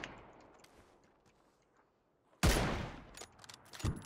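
Gunfire in a battle royale video game: a sudden loud burst of shots breaks a quiet stretch, followed by a few more sharp reports a second later.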